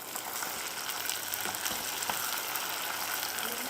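Mutton liver (kaleji) sizzles as it goes into hot oil with garam masala and lightly browned onions, giving a steady, loud, crackling hiss throughout.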